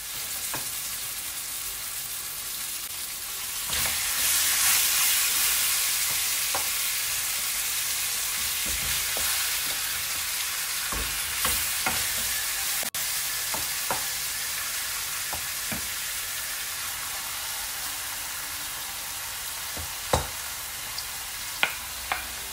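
Lamb with garlic and curry powder frying in a pot, a steady loud sizzle that swells after a few seconds, with sharp clicks and scrapes of stirring scattered throughout; no one speaks.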